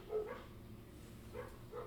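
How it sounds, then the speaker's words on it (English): A couple of dogs barking back and forth in a backyard, distant and faint, giving three or four muffled barks over a steady low background. "There's a couple of dogs having a barking competition in my backyard"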